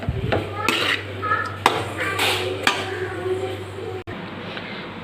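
Egg fried rice is stirred in a pan at home, with repeated scraping clanks and metallic clinks of a spatula against the pan over a low steady hum.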